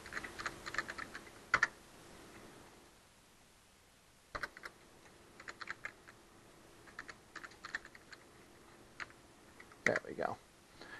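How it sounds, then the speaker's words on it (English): Computer keyboard typing in quick clusters of close, crisp keystrokes separated by pauses, with a few louder clicks and a low hum underneath. "I just want to type in localhost."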